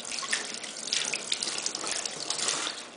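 Water runs steadily from a kitchen tap while hands are washed, a close, continuous hiss and splatter with small shifts as the hands move through the stream during gravlax preparation.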